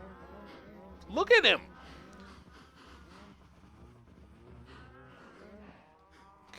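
A cow moos once in Minecraft, a short loud bleat standing out over quieter background game sounds, with someone talking around it.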